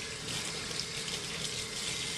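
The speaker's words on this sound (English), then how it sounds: "let me turn on the water here" Water runs steadily from a kitchen sink tap during a brisket jerky prep session, a constant broadband hiss and splash that holds at an even level throughout with no talk.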